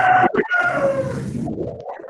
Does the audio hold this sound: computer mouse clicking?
no